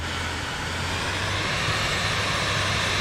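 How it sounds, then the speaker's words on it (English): A Vision Jet's jet engine roars steadily during takeoff from Knoxville in Microsoft Flight Simulator, a loud continuous broadband rush with a low steady hum beneath, no voices. "Takeoff here in the Vision Jet."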